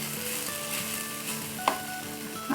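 Cumin rice sizzles steadily in a hot pan while being stirred, a continuous close frying hiss with a couple of soft scraping knocks from the spoon.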